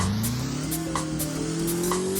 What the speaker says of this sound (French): Le moteur, il fait un autre bruit là, par contre